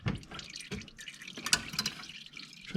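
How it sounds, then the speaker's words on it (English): CVT transmission fluid from a 2017-2022 Honda CR-V filter dripping into a drain pan, with close, irregular wet drips and small splashes spaced out over a faint background. "while that filter is dripping into the drain pan a little bit"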